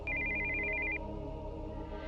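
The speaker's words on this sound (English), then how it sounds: "we heard the sound of an incoming call on a cell phone." An incoming-call ringtone from a cell phone in the Steins;Gate 0 game sounds as a single steady electronic tone for about a second, then stops and leaves a low background hum.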